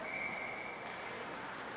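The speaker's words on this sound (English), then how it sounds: "We get a whistle just 1:47 into the first period." Referee's whistle at a youth Pee Wee ice hockey championship game, a single sustained shrill blast over steady arena crowd noise and chatter.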